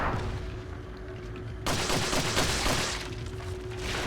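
Rapid gunfire in a video game, a dense burst of shots that swells loud midway and carries on steadily to the end, with no talk over it.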